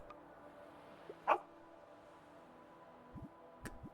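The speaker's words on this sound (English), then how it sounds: "Oh, there's a dog." A dog in the video game Tiny Bookshop gives one short soft bark, followed later by a few faint yips, over a quiet game backdrop.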